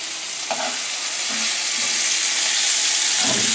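Summer fluke fillet frying in a pan, a steady close broadband sizzle that grows slightly louder over a few seconds, with a few faint utensil touches.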